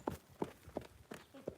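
A horse trotting slowly in a riding session, hooves striking the ground in an even rhythm of about five beats, fairly close and moderately loud with no talk over them.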